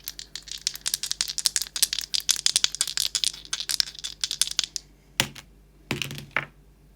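A handful of small charm dice are shaken and tumble, giving a dense run of sharp clicking rattles for several seconds, then a few separate clacks as they settle, close up with no talking.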